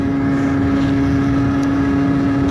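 A Yamaha MT-07 motorcycle engine holds a steady, loud drone with a strong even hum that runs unbroken throughout, with no voices.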